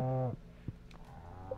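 Cows mooing in the farming game Stardew Valley: a loud, tonal moo at the start, then a quieter, drawn-out moo near the end, with faint farm noises in between.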